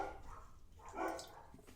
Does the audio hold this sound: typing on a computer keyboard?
no